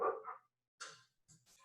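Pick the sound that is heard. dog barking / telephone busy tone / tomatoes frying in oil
dog barking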